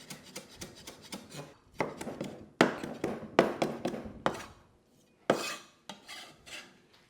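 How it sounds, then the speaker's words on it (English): A woody lemongrass stalk is bashed on a cutting board before slicing, a run of sharp, close thuds in uneven bursts with short pauses, mostly alone with no talking. "Lemongrass can be quite woody, so you do want to bash it well before slicing into it."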